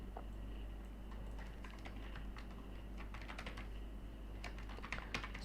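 Keystrokes on a computer keyboard clatter in an irregular run as code is typed, sparse at first and then quicker and denser, fairly close over a steady low hum.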